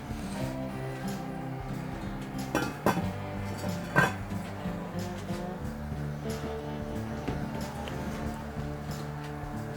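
A red enamel-coated Lodge 7.5-quart cast iron Dutch oven is handled during unboxing, giving a few clinks and knocks of its heavy lid and body over a steady low background, with two sharper impacts standing out.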